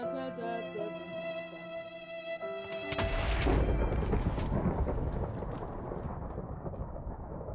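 Lightning strikes in Minecraft with a sudden loud rumbling boom of thunder, breaking in over steady game music and rolling on as a noisy, fading roar.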